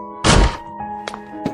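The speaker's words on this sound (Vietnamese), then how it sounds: "Cửa mở tung." A door flung open with one heavy thunk, followed by a few faint clicks and knocks as it settles, in a quiet indoor setting.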